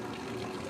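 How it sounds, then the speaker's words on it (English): Water running or being poured steadily while adding it to Dawn dish soap on a shirt's armpit area, a brief continuous wash of liquid close by with no talking. "I add water."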